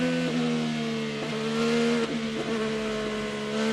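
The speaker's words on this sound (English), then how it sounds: "full throttle all the way over the curbing, going through the chicane, now down Holman Boulevard" An IndyCar race car at Indianapolis holds full throttle through the chicane and down the straight, its engine a loud, sustained high-pitched howl with steady harmonics and brief dips at gear changes.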